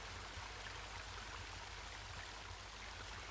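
Steady broadband rushing of a cold river flowing at the end of a forest path in the horror adventure game Home, constant and unbroken with no voices.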